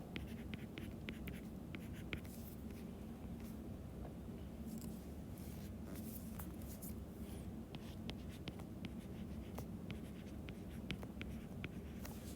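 Pen scratching steadily across paper while a hand diagram is drawn, a continuous close scribbling texture with short strokes and pauses, no one speaking.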